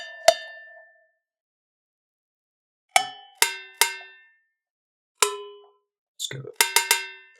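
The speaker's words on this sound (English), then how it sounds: "I'm going to go for a cowbell sound." Single struck cowbell-like metallic hits ring out one at a time, sharp and bright with short decays, spaced apart, then a quicker cluster of several hits near the end; a voice speaks briefly.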